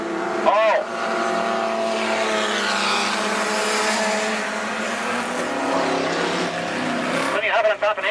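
Outlaw sedan race cars roar around the track at Macs Speedway in a dense, sustained engine drone, with a commentator talking over the noise throughout.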